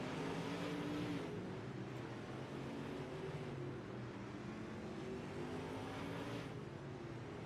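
Asphalt race cars circle a racetrack, a steady distant engine drone that stays faint and continuous with no talk.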